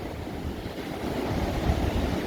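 Ocean surf on the Oregon coast rolls in as a steady, broad roar that swells slightly louder toward the end, with wind buffeting mixed in and no voices.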